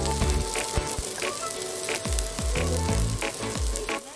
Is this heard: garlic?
yes